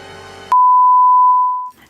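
A phone timer sounds a single sustained electronic beep, a clean steady tone lasting over a second after a soft background hum, then cutting off.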